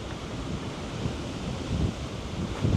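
Ocean waves wash against the west coast of Tahiti, facing Moorea, a soft continuous surf mixed with gusting wind noise on the microphone, with a few slightly louder swells and no speech.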